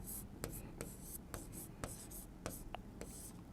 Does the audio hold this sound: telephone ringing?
no